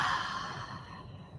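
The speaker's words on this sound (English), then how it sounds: "we are breathing deeply" One long, deep exhale during a yoga session, breathy and close, fading out smoothly with no talk over it.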